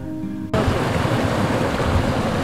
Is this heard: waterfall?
yes